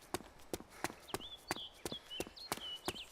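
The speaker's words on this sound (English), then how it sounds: "A bit noisy on the old footsteps there, aren't I?" Rapid, evenly spaced footsteps in DayZ, the ARMA 2 mod, thud close and loud around an airfield with aircraft hangars, about three steps per second, with a faint whistling tone drifting behind them.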